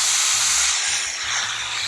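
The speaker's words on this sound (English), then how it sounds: "how the steam kind of goes out the side a little bit" Steam hisses steadily from a Laurastar ironing system, a broad, continuous rushing spray at close range with a low intermittent pulsing hum beneath it.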